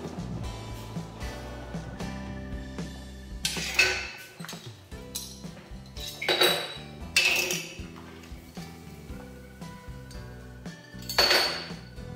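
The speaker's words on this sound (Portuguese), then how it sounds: "Aí aqui eu já estou com meus vidros né, fervendo, já vou tirar ele daqui." Glass jars clink and knock against a metal pot of boiling water several times, with bubbling water and kitchen clatter in the background; no one speaks.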